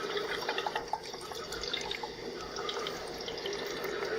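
Water pours from a filled blue hypotenuse square into the two leg squares of a Pythagorean theorem demonstration model, a steady close trickling and splashing flow that lasts throughout with no talk.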